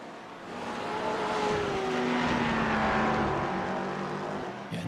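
A race car accelerates out of the final corner at Canadian Tire Motorsports Park during an amateur endurance race, its engine note rising and sweeping steadily as it pulls away, loud and continuous with no voices.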